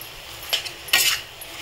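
A spoon stirs mashed boiled potato into spices in a pan for pav bhaji, making two short, close scraping swishes against the metal with brief quiet between them.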